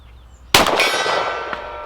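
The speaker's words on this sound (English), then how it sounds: "let's start with the silver gong on the left" A 10mm Glock 40 firing Blazer 180-grain rounds strikes a silver steel gong: one sharp, loud metallic clang that rings on with a long sustained tone, then a second fainter hit near the end.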